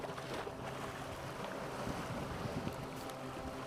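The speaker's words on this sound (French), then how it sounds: "La mer arrose copieusement les berges rocailleuses." Sea washing over a rocky shore at low tide on Playa Pilar beach in Cuba, heard as a steady, broadband wash with wind buffeting the microphone, continuous and moderately distant.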